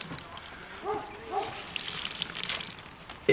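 Water squeezed from a balled-up Breezie beach towel, trickling and dribbling in a faint, irregular stream that builds toward the end, close by.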